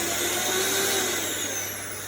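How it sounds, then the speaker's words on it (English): An electric hand mixer whirs steadily through coffee loaf batter in a bowl, a continuous close motor drone that fades slightly toward the end. "Another quick blast of the mixer."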